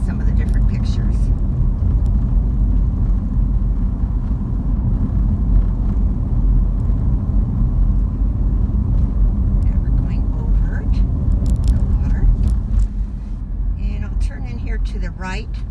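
A car rolls slowly around an RV village in Yuma, Arizona, its engine and road rumble steady and close while someone talks over it throughout.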